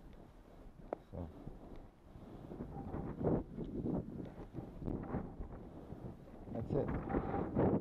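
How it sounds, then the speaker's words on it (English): Wind gusts outdoors where skis are being tuned, a rough, rumbling roar that swells and fades throughout, with a person talking over it. "Just in time for the wind, huh?"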